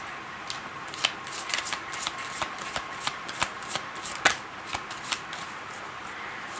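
Tarot cards riffled and shuffled by hand, a series of sharp papery flutters and snaps in irregular bursts, close and clear with no talking.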